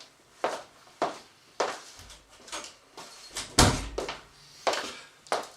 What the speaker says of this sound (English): Now, here you see an open door. I'm going to close that.